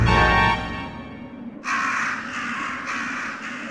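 Crows in a room of the Resident Evil Director's Cut video game caw loudly and continuously up close, a harsh overlapping clamor after an earlier low rumbling tone.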